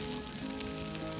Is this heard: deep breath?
no